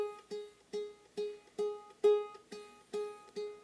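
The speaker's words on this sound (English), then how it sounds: "just pluck on that G string." A ukulele's G string is plucked with the thumb at the first fret, eight single notes spaced evenly, each a soft close twang that decays quickly in a quiet room.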